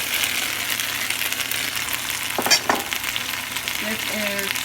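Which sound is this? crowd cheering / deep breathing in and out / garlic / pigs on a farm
garlic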